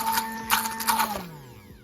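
Hand mixer whirring as it blends an aloe serum, a steady high motor whine with rattly bursts that winds down and fades over the last half second, close and without talk.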